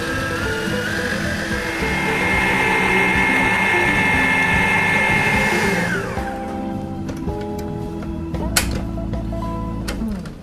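A stand mixer whips cream cheese, butter and sugar at a raised speed, a loud steady motor whir with beater churn that runs for several seconds, then drops to a quieter hum with a few clinks and knocks near the end.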